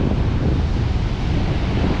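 Ocean waves and surf along the Australian coast, heard from a high lookout, with a loud roaring wash of water and strong wind buffeting the microphone, continuous and close.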